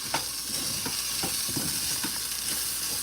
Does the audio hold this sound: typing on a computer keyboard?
no